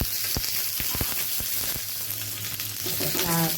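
Masala spices with onion roasting in a pan for a Vidarbha kathwada rassa, a dense continuous sizzle with sharp scraping clicks of stirring, steady and close throughout.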